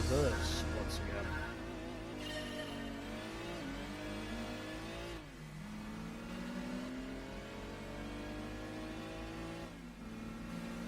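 A BMW 3 Series race car engine in Gran Turismo 2 revs hard, with pitch sweeping up through the gears and dropping at each shift, loud and continuous on its own.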